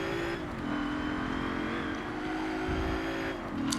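Ford Falcon XR8 A-Class race car in Forza Motorsport 7, engine droning steadily at high revs throughout, pitch dipping briefly through a gear change, with a faint tire squeal near the end.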